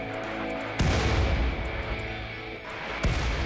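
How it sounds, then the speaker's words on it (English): Mortar shots from raiders in a sci-fi base-defense video game: two heavy booming blasts about two seconds apart, loud and close over a steady droning game soundtrack. "How many mortar shots do they have?"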